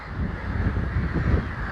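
A flock of juvenile birds massed on a long island in a shallow tidal channel, harsh raucous calls overlapping into a distant, continuous racket.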